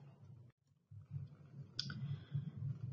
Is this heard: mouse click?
yes